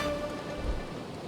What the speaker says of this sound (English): it's been quite a heavy rain ever since we arrived here in the Concan area